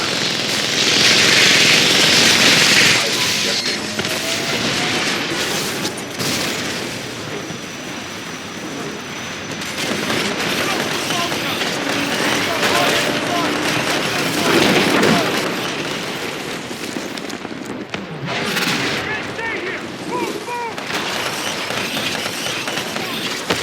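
Titan gunfire and explosions in the video game Titanfall 2 form a dense, loud, continuous wash of blasts and rumbling mechanical noise, with a voice speaking under the din.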